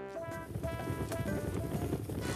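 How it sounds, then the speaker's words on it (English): A galloping-horse sound effect from a visual novel game, with rapid clip-clop hoofbeats from what seems to be several horses, a steady, fairly loud patter with a faint whinny-like tone layered in. "I thought there were a bunch of horses coming to get me for a second there"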